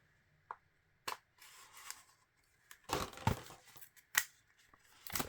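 Tight plastic shrink wrap on an Atari 2600+ box is cut and torn open, giving several sharp snips and crackling rips in irregular bursts, close and fairly quiet.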